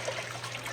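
Water drains and trickles steadily from washed samp (stamped corn) in a pot, a soft, continuous splashing flow with a low background hum.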